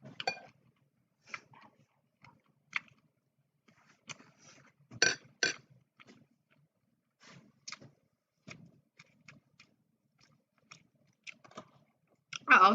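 Someone eats during a mukbang. Soft, close chewing and biting sounds come in scattered bursts with quiet gaps, along with occasional light clinks of dishes.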